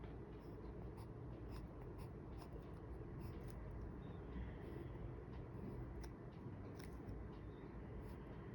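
A gray pen scratching continuously across paper while drawing a Zentangle pattern, with steady faint strokes close up and no talking.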